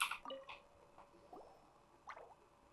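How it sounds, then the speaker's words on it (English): Wet droplet and gurgle effects in a video game, a few short plops and drips spaced across the moment, fairly faint and without talk. "it sounds like a water droplet is on the second floor"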